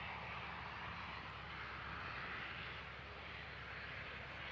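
Light aircraft taxiing along the runway at Christchurch airfield, home of the Canterbury Aero Club: a constant, even engine drone that holds steady from start to finish, heard from moderate distance.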